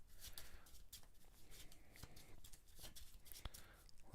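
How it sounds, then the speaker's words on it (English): Encounter deck of a Transformers deck-building card game being shuffled by hand, a quiet run of rapid riffling and flicking card sounds with a few sharper snaps, up close. "So I will take my encounter deck. I am going to shuffle it up."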